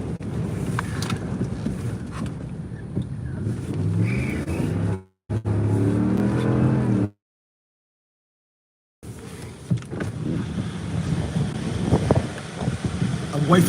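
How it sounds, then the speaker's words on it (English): Strong south wind during Hurricane Milton in Sarasota, Florida, heavy gusts buffeting the microphone in loud, rumbling roars, broken by a brief dropout of silence before the battering resumes. "I've got almost a due south wind now."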